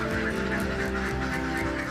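A flock of ducks on a rural duck farm in Kulon Progo, Yogyakarta, quacks continuously in loud, overlapping, rhythmic honks, with no talking.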